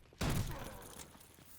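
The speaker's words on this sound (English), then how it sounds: "When you shoot this, it acts like a bomb" An upgraded gun in Call of Duty Zombies fires once with an explosive blast, a sudden loud boom that rolls off into a decaying rumble.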